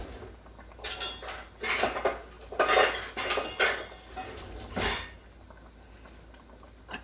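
Metal cutlery and utensils clatter and clink while being rummaged through in a kitchen drawer for a measuring spoon. The sound comes in several irregular bursts of jangling, close and moderately loud, with no talking.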